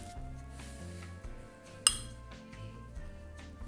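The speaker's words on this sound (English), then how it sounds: "And then you can start placing your glass." Small pieces of stained glass being set into a thin mosaic adhesive bed around a leaf skeleton, with faint taps and one sharp glassy clink standing out, close and otherwise quiet.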